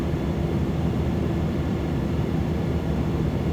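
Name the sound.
Cessna 208B Caravan engine taxiing, MSFS 2024 video game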